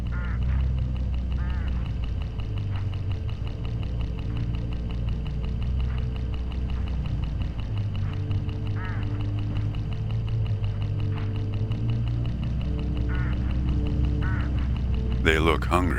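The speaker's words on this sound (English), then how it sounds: "Look, hooded crows all along this road." Hooded crows calling along a rural road in the game HitchHiker, harsh repeated caws under a steady engine drone, with a voice talking over them.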